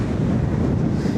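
Strong outdoor wind buffets the microphone in a dense, continuous low roar, loud and unbroken throughout the short stretch, with no voices.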